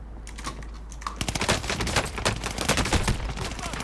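Rapid gunfire rattles in a first-person shooter video game, bursts of dense, sharp shots after a quieter opening, close and loud over a constant background hum.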